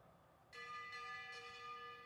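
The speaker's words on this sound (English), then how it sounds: "Did you hear that bell?" Lap bell at a bicycle race: three quick, ringing metallic strikes with rich overtones, fairly close and clear over quiet background noise.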